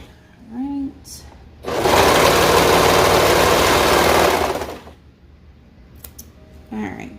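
A serger stitches seams on ruffle shorts in a loud, steady whirring burst of about two and a half seconds, with brief voice sounds and handling noises before and after the run.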